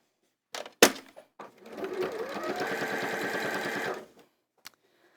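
Sewing machine stitching fabric toward a corner, a loud run of rapid even needle strokes lasting about two seconds, framed by a sharp click and a few handling knocks before and after.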